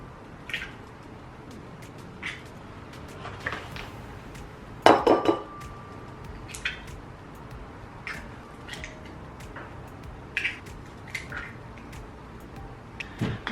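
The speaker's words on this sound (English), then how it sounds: "we're gonna crack 4 eggs into a bowl" Four eggs cracked into a bowl in a kitchen, a scattered series of light taps, clinks and wet squishes against glass or crockery, with one sharper ringing knock partway through and quiet background between.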